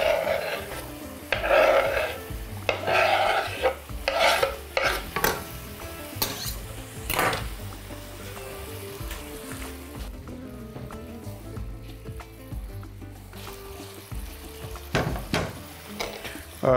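Zucchini tipped onto soft golden onions in a pan, sizzling and frying while a utensil stirs and scrapes in bursts, then a quieter steady sizzle with occasional clinks.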